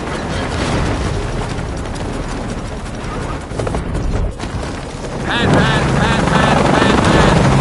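A helicopter in Shadow of the Tomb Raider roars with loud rushing wind and rotor noise, dipping briefly before an engine drone with a strained whine swells back up, close and continuous.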